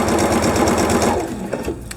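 A sewing machine runs steadily while fabric strips are chain pieced, a dense rapid stitching hum that slows and pauses near the end as the next pieces are fed under the needle.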